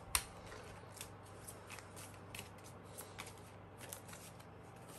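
Tarot cards are shuffled and drawn by hand, making a quiet, continuous papery riffle with light slaps and flicks. Nobody speaks.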